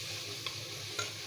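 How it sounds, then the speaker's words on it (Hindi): Onions and mutton sautéing in a pan give a soft, continuous sizzle, with two brief sharp scrapes of stirring, and no one speaking. "2 मिनट के लिए हम इसको भूनेंगे"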